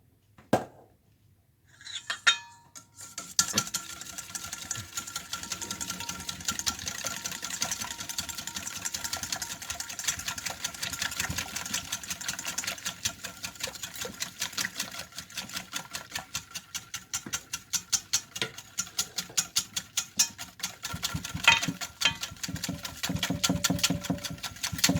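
Fast, continuous whisking of eggs in a bowl for a lemon pie, a close rapid clatter of utensil against the dish after a brief pause at the start, with steady rhythmic strokes throughout.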